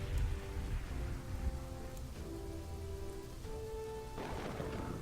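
A lightning storm in the city-building game Kingdoms and Castles, with steady rain hiss and low rumbling thunder under sustained tonal game music, moderately quiet and continuous.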